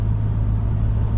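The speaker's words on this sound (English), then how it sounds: "you can hear third, second, and the downshifts are so smooth" A 2008 BMW M3 Coupe engine hums steadily through smooth downshifts on a night drive, a constant low droning rumble heard from inside the cabin, with no gaps or spikes.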